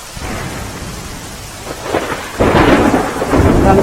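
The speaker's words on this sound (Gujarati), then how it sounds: "ઉના શહેર અને ગ્રામ્ય પંથકમાં ધોધમાર વરસાદ વરસી રહ્યો છે" Heavy downpour in Una with deep rolling thunder, dense rain hissing on surfaces and the rumble swelling louder partway through.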